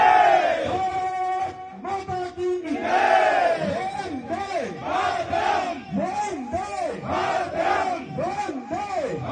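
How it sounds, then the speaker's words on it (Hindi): A large crowd of political supporters gathered at a BJP legislator's house in Uttarakhand, shouting slogans together in loud rhythmic chants that swell and repeat, close and dense, with no separate voice standing out. "हजारों की संख्या में लोग विधायक अरविंद पांडे पहुंच चुके हैं"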